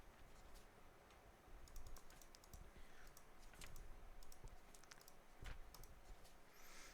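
Quick, light computer clicks tap out in irregular bursts during play of the video game Return of the Obra Dinn, close-up and fairly quiet against a soft room background.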